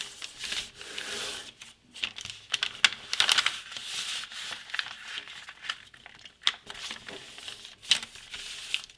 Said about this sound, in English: picking these up and folding them onto the next crease